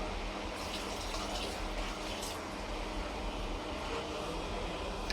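Water is splashed onto a 3D foam wallpaper panel to clean it, giving a continuous rushing, spraying wash with a few brighter splashes and no talking.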